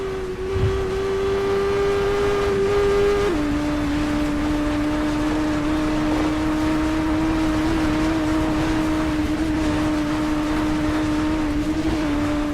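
A heavy motorcycle in TT Isle of Man Ride on the Edge 2 holds a steady engine drone in a long gear ratio, the pitch dropping once at a shift and then running flat and loud, unable to build more speed.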